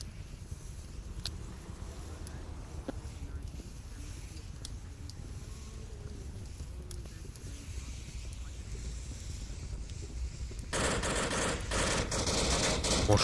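Sparse, distant gunshots crack through a steady windy ambience during a competitive team match of the VR shooter Onward, a few isolated reports spaced seconds apart, then a louder burst of noisy firing near the end.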